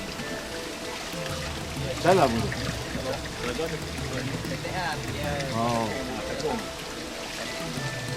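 Spring water trickles steadily from the ground at Telaga Tok Syekh on Gunung Jerai, a soft continuous burble close by, while people talk briefly over it.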